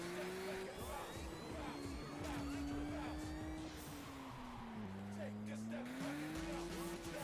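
Race car engine from the video game Juiced 2: Hot Import Nights, a steady sustained whine that shifts pitch up and down as gears change, with tire noise and a low rumble throughout.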